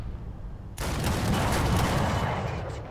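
Heavy ZUT-37 gun fire at an enemy tank in War Thunder, a sudden loud burst that sets off a dense, rumbling barrage continuing near and steady, with no talk.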